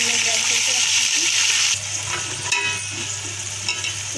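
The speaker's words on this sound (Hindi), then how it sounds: "इसके अंदर हम डालेंगे अपनी पिसी हुई प्याज 1 अदद दरमियाने साइज़ की, जो हमने ग्राइंड करके रखी थी" Ground medium-sized onion hitting hot oil in a pan for a Pakistani pakora kadhi, a steady loud sizzle and frying hiss that dips slightly partway through and then carries on close and continuous.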